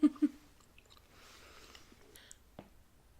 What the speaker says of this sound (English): I probably spent like 3 minutes chewing that thing